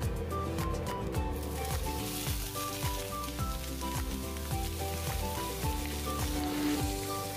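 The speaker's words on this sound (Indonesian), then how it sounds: "setelah panas masukkan ikan, kita goreng ya teman-teman" Fish frying in hot oil in a wok, a steady dense sizzle and crackle running throughout at moderate loudness, with no talking over it.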